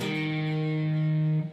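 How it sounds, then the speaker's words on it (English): One distorted electric guitar note on the second fret of the D string, sounding near and sustained for about a second and a half before being muted, from a song lesson. "The note that will ring out here will be the second fret of the D."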